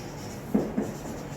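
A marker or pen scratches out a maths question on a board, two short firm strokes close together amid a faint steady room hiss.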